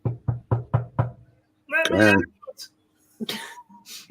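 Five quick, evenly spaced knocks on a door ring out up close, followed by a voice and other brief vocal sounds.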